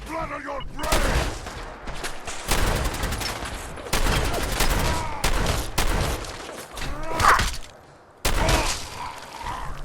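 Shotgun blasts from Fallout 4 with Sim Settlements 2, a loud burst of repeated gunfire in uneven clusters, with sharp reports filling the scene and short gaps between volleys.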